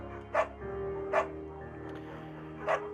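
A beagle barks in the video game Firewatch, three short separate barks spaced about a second apart over a low steady ambient hum.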